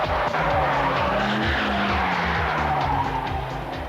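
Stolen cars driven hard at speed skid loudly, with tires squealing over roaring engines.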